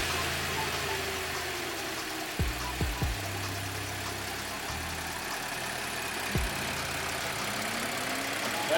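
A 3.0 TFSI engine in an Audi Q7 with a valve-train misfire cranks and starts, giving several short low thumps and a brief whir of starter effort before settling into a steady idle hum.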